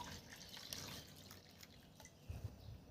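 Water added to a homemade liquid fertilizer for lemon plants, bringing it up to one litre: a soft, continuous pour and trickle with a few drips, fairly faint and with no talking.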